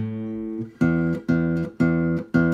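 A single low guitar note, the E string, is plucked repeatedly, four or five even strikes, each ringing briefly, close and clear with no talking.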